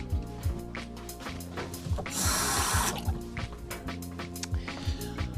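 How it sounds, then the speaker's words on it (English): Tap water runs and splashes into a jug at a sink for acrylic painting, a steady close hiss and gurgle swelling briefly louder in the middle before easing back. "I'm going to put some water in my jug here."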